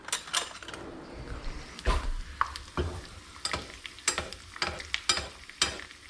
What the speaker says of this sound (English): I'm just gonna do this little thing where I baste my eggs with olive oil